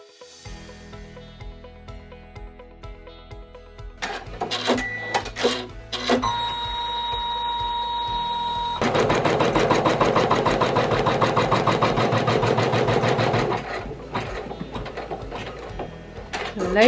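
An embroidery machine stitches vinyl over fabric, a rapid rattling needle chatter that starts and stops in bursts, with beeps and mechanical clicks between runs and a long steady stretch of stitching near the middle.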